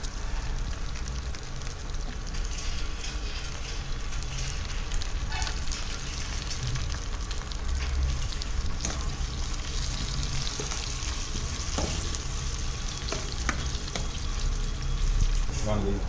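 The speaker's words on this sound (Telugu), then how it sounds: "బాగా ఆనియన్ని పచ్చిమిరపకాయని ఇట్లా బాగా వేయించుకోవాలి" Onion, green chilies and curry leaves fry in a pan with a steady, dense sizzle and crackle throughout, close and continuous, occasional stirring clinks on top.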